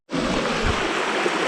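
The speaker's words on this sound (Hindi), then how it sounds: "देखते हैं पिकनिक पॉइंट में ये नदी छोटी सी बह रही है" A small river flows at a picnic point in Kaziranga National Park, Assam: steady, close broadband water rush running continuously with no pauses, with no voices over it.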